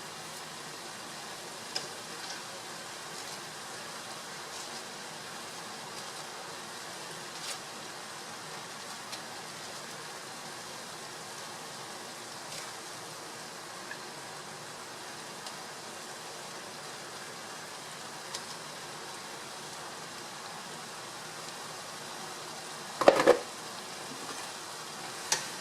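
Bean sprouts and shrimp stir-frying in a pan, a constant soft sizzle with scattered small clicks and one sharp clatter of utensil against pan near the end.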